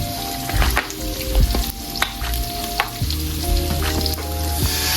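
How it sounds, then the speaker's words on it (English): Garlic sizzling in hot olive oil in a pan, a loud continuous crackling fry with occasional stirring knocks and scrapes, close and unbroken throughout. "Let the olive oil get hot. Add some garlic."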